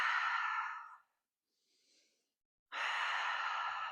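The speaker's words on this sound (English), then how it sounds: "Take some deep belly breathing, allowing the belly to expand again away from the spine." Two long, deep breaths during a mat abdominal workout, each a broad airy rush lasting about a second, separated by a quiet pause with a faint soft inhale, close and clear with no talking.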